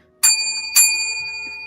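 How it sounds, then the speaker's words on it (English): A bell in the video game The Dead Falls Summoning is struck twice, about half a second apart. Each loud, bright ring hangs on with a long metallic decay. "Yeah, that bell is badass"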